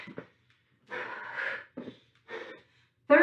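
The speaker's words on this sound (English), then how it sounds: "Breathing deep." Deep breathing during a workout: several separate, audible breaths in and out, close and fairly quiet, spaced by short silent pauses.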